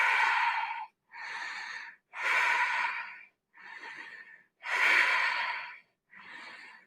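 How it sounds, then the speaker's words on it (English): Six slow, deep belly breaths taken in yoga bridge pose, each a loud close airy inhale or exhale about a second long, separated by brief silent pauses, with no talk. "Let's take 5 deep breaths here."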